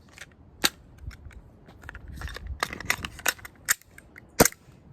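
Sharp pops from an AW Custom VX7 Z80 green gas airsoft pistol in cold weather, about seven or eight irregular shots with cycling slide clacks, close and loud over faint background rustle.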